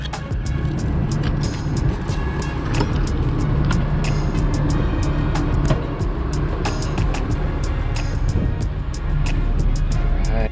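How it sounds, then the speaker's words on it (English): A Tiffin Phaeton motorhome's engine and generator run together in a steady, loud mechanical drone, with scattered light clicks and rattles over the constant hum. "I've got the generator started. I've got the house batteries on, the motor's running, so everything's working good here."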